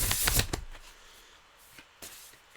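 An oracle card deck is shuffled in a quick, close burst of riffling that fades into faint rustles and a couple of soft card taps.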